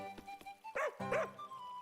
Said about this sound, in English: It woofs.